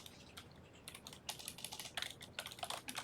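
Quick, uneven clatter of keystrokes on a computer keyboard, soft and close, in short bursts of rapid taps with brief pauses between.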